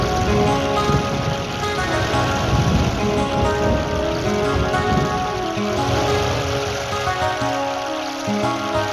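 Heavy rain pours down in a steady, dense hiss of drops striking surfaces, close and constant for several seconds with no voices.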